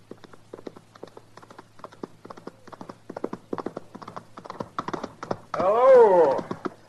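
Rapid clip-clop of a galloping horse in an old radio western, hooves pounding in a fast steady rhythm with people talking over it, ending in a loud whinny.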